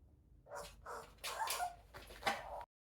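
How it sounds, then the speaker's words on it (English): Small pet dog named Ruby, a station master's dog, gives several sharp barks and yips in a quiet indoor room, a short burst of close, moderately loud calls with brief pauses between them. "Station Master's dog here. Ruby, you must shut up."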